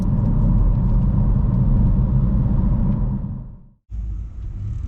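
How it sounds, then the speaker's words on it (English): A manual car driving in the countryside, accelerating and shifting straight up to fifth gear: a loud, close engine rumble that fades, cuts out briefly during the shift, then resumes at a steadier pitch. "Accelerate, straight back up to fifth."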